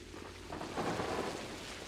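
Rain falls steadily in the video game Pathologic while a low rumble of thunder swells midway, fairly faint and distant.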